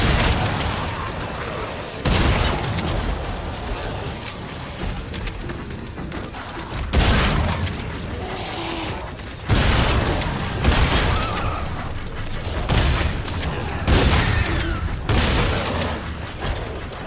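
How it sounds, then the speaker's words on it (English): Loud, booming shotgun blasts in The Callisto Protocol sound at uneven intervals, about six sharp reports, each followed by a decaying rumble and clatter over a dense game soundscape. "I'm using the right shotgun."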